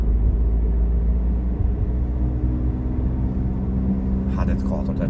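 A car being driven in a lesson gives a steady low engine rumble and road drone, with a brief voice near the end.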